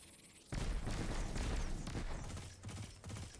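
Sustained automatic gunfire in Destiny 2, a barrier champion enemy spraying machine-gun bursts, a dense rattling barrage that kicks in abruptly and continues loud over game background noise.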